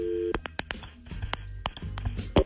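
A telephone call being placed, with short beeping tones and clicks in quick succession, fairly loud and close, with no voices.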